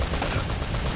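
A .50 cal machine gun firing in one loud, unbroken burst of rapid shots, close and harsh, with no talk.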